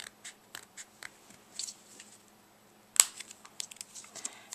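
Scissors cut through a stack of patterned paper pieces down the center in a series of crisp, quiet snips and crunches. The cuts are irregular and close, with one sharper click near the middle.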